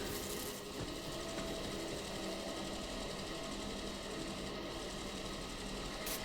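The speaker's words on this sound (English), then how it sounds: "Grinding and filtering sample." Sample grinder in the video game Atomfall running steadily, a dense continuous mechanical whirring and rattling grind that stays level and loud throughout with no voices.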